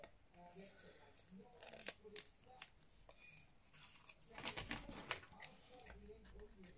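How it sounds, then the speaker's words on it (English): Scissors cutting paper up close, crisp snipping and rustling in uneven bursts with a denser run of cuts near the end, while a person talks quietly. "Cut these up."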